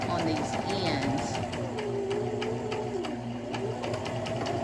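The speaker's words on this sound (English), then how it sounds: "So I may have to do a little zigzag stitch on these ends" A sewing machine zigzag-stitches the fabric ends of a baby burp cloth, running with a steady rapid mechanical whir and clatter while someone talks over it.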